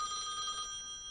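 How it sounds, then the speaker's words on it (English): A telephone with an odd-sounding ringer rings once in a short electronic trill inside a highway cafe, clear and fairly close, then fades out. "Is that the phone? That is the Odd ringer you have there."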